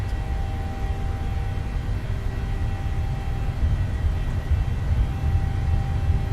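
A Boeing 737-800 jet in Microsoft Flight Simulator rolling down the runway at takeoff power, a steady broad engine roar with low rumble and a faint constant whine, unbroken for several seconds.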